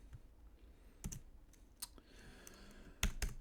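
A few sparse keystrokes on a computer keyboard, close and fairly quiet, as a variable is entered in JavaScript code: one or two taps near the start, one in the middle, then a pair of sharper clicks at the end.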